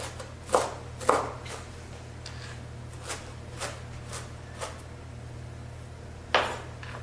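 A knife chopping baby spinach on a cutting board: a few sharp, close chops, some fainter taps in between, then one more loud chop over a low steady hum.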